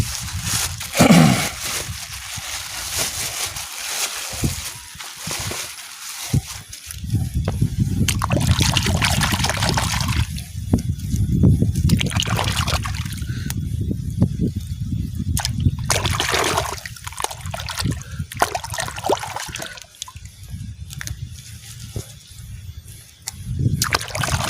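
Freshwater kijing mussels being washed in water, repeated splashing, sloshing and trickling in bursts with brief quieter gaps, close and fairly loud, no talking.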